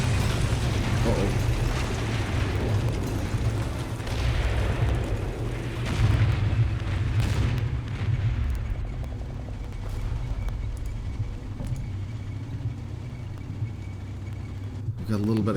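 Artillery shells burst in the tank-war game Combat Mission Red Thunder: deep booms roll one into another in a long, rumbling barrage that slowly fades, with a sharp crack near the end.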